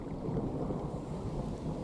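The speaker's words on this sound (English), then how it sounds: "It's so loud in this storm." A thunderstorm in the fishing game Russian Fishing 4 gives off a low, continuous rumble of thunder under a wash of rain, steady and fairly quiet throughout, with no talk.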